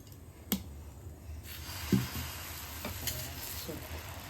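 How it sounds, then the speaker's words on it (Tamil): Kari dosai batter poured onto a hot dosa griddle gives a soft, low sizzle with a few sharp clicks and taps from the utensils, heard quietly and close. "இப்போ தோசை மாவு ஊற்றிக்கலாம்."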